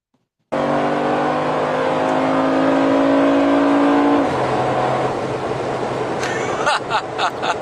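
A Mercedes-Benz AMG engine bursts in from silence with a loud, close, steady rising tone, drops abruptly to a lower note, then ends in rough, choppy revs.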